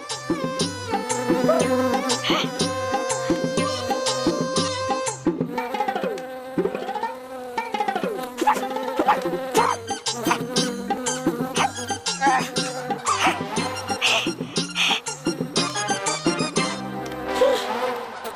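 A fly buzzes loudly and continuously close by, its whine rising and falling in pitch, mixed with a busy music track and playful sound effects.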